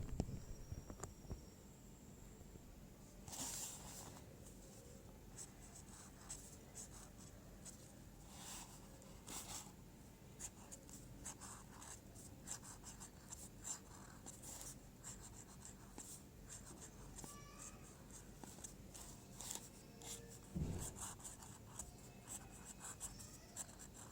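Pen writing joined cursive alphabet letters on paper: a steady, close scratching and rubbing that runs almost without pause, with occasional brief taps and louder strokes, and no voices.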